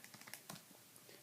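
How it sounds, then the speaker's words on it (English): Quick, light clicking taps of numbers being typed into a calculator or keyboard, about a dozen soft keystrokes in an uneven rhythm, close and quiet with no talking. "typing all that in"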